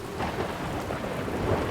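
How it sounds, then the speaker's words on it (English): Rain and rolling thunder from a thunderstorm in the space exploration game Outer Wilds, a steady dense wash of rainfall with low rumbles running throughout. "Look, you're making it thunderstorm."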